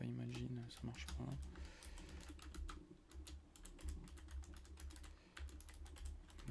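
Typing on a computer keyboard, with quick irregular clusters of close key clicks over a continuous low hum, with someone talking throughout.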